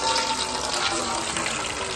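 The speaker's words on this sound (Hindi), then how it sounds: "नीचे थाल रख दिया है, पानी नीचे आ रहा है।" Water pours steadily through a spread cloth into a metal plate set below, a continuous close splashing trickle while making an aloo matar and sangre dish in a village kitchen.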